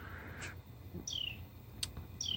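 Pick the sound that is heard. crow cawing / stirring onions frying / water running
crow cawing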